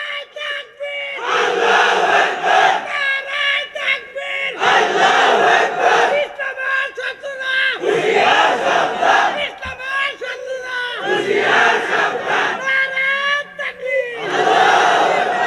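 A crowd at a religious gathering in Bangladesh shouts the takbir chant in loud, rhythmic call-and-response bursts, a leader's cry answered by many voices roaring together, repeated about six times with short pauses between.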